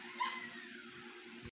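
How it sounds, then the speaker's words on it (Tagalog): Shera, a dog, scuffling with and chasing a puppy, with a faint, short burst of yips and whimpers over a constant background hum before the sound cuts off abruptly. "Hinabol yung isang tuta."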